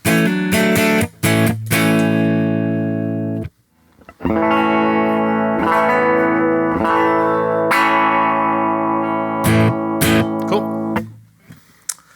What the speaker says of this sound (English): I'm just going to play A chord.